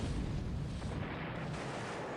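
A loud, sustained internal explosion aboard a warship in a naval battle game, a dense roaring boom that fills the whole moment without any voices.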